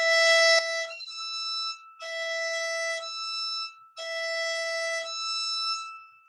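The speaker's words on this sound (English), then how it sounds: "And your harmonic on E would sound like this." Violin harmonic on the E string, a high, glassy sustained tone bowed alone in three long strokes separated by short pauses, soft and close.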